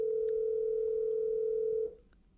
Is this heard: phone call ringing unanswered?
yes